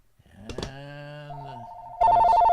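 A telephone ringing with an incoming call: a close, loud electronic ring tone begins partway through, strong and steady, after a few brief tonal chirps and beeps in a quiet room.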